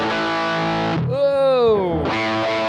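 A distorted electric guitar with its open A and D strings left unmuted, ringing together in a loud, buzzing, sustained clash that gives way briefly to a cleaner bending note before the dirty ring returns.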